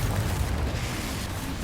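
A Confringo fire blast spell from Hogwarts Legacy erupts as a dense, rumbling burst with a heavy low boom, sustained loud and steady for the whole moment, with no voices.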